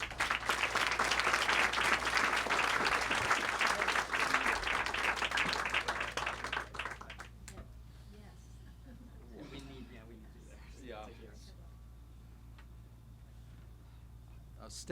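An audience in a lecture room claps to welcome author David Satter, a dense round of applause lasting about seven seconds before fading, followed by quieter room sounds and a voice.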